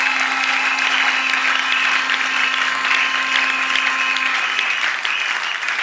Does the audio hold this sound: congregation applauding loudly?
yes